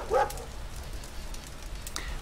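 A dog gives a short bark in a video game as it finds a buried lockbox, one brief yip near the start followed by quiet game ambience and a faint second call.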